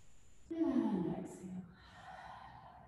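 One long, breathy exhale during a power yoga session swells and then fades over about a second, heard close and softly, with quiet room tone after it.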